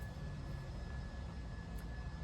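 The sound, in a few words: airplane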